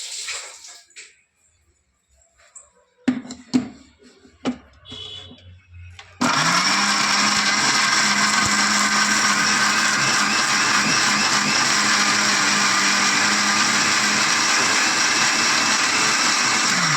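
An electric mixer grinder blending onions and tomatoes for chole masala gravy starts abruptly after a few quiet kitchen clatters, then runs as a loud, steady whirring drone until the end.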